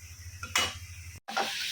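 Shrimp cooking in a pan alongside cauliflower leaves: brief, close sizzling bursts with stirring scrapes and a short gap in between.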